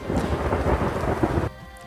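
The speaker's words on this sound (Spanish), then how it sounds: "Eso es una tormenta, ¿no?" Thunderstorm with heavy rain pouring steadily and a deep rumble of thunder, loud and continuous before dropping off abruptly into a quieter hum.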